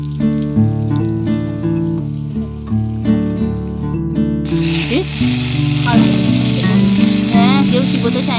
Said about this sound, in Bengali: আলু ভাজাগুলো উল্টাতে হবে তো।